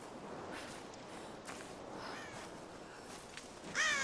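A crow caws faintly in Tomb Raider 2013, a few harsh distant calls over soft ambient wind and light footsteps.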